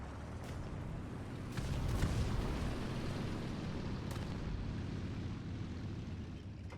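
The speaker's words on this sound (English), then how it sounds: "And a suicide bomb." Suicide bomb blast in a video game, a loud sustained rumbling boom that swells after a couple of seconds and holds as a dense roar to the end, with no talk over it.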